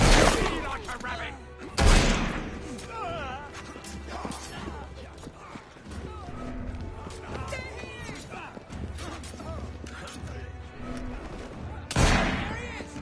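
Gunfire in Assassin's Creed Syndicate: sharp, loud shots crack out near the start and again near the end, amid busy game noise and voices talking throughout.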